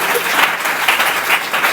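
Church congregation applauding, dense continuous clapping from a crowd filling the room, steady and fairly loud with slight swells.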